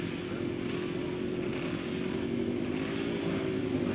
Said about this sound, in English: They rev the engines up, a clutch start